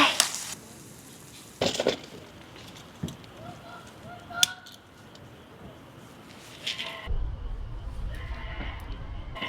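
Campfire at a solo campsite crackling with sharp pops and snaps scattered over a low steady hiss, heard up close, with a deeper rumble joining near the end.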